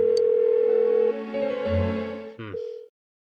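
A telephone rings unanswered in Persona 4 Golden, a steady electronic tone repeating loudly and close for about three seconds, then breaking off abruptly into silence.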